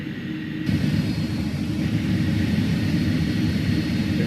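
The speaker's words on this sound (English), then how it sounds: "Big old slats coming down." Flaps and slats extend on an Airbus A300-600 in a flight simulator, heard as a loud, steady cabin rumble that thickens with a low mechanical drone after a brief step up in level, with no voices.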